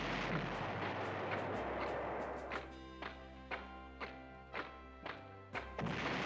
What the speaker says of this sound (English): Hit them with artillery.